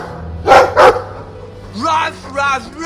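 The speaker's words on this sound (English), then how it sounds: "I like the doggy." Dog barking in a Dragon Age 2 cutscene: two loud close barks in quick succession, followed by voices talking.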